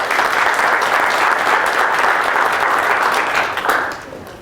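A seminar audience claps steadily for several seconds to welcome the speaker, a dense, close wash of applause that tapers off near the end.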